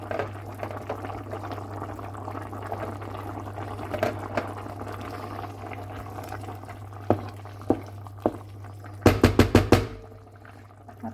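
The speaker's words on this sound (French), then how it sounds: "à peu près 20 minutes mijoter" Mushroom velouté simmering in a pot on the stove, a soft steady bubbling with scattered small pops and clinks, ending in a brief burst of sharp clacking near the close.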